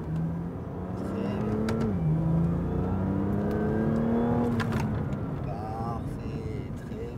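A BMW M2 Competition accelerates on the Dreux circuit, its engine note climbing steadily and loud from up close, under an instructor's voice speaking French throughout.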